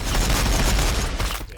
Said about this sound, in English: War bikers firing, boss.